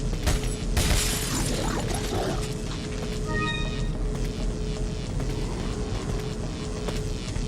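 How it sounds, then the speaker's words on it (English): Glass windows shot and shattering in Resident Evil 4: a loud crash of breaking glass near the start, followed by mechanical hum and game ambience with a brief tonal chime midway. "shoot the glass windows and you'll get a gemstone"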